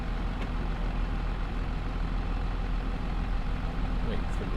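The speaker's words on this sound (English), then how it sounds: "Start the tractor back up." A tractor engine in Farming Simulator 25 runs at a steady low idle, a continuous heavy rumble with no clear start-up burst, holding evenly throughout.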